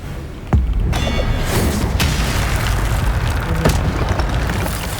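Spell effects firing in the Hogwarts Legacy video game: a loud sudden boom with a rumbling, crackling magical blast that trails off, followed by further swooshes and thuds from combat.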